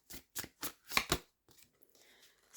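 A deck of astrology cards being shuffled, several quick riffling bursts close by and fairly quiet, then a softer rustle as the cards settle, with no talk.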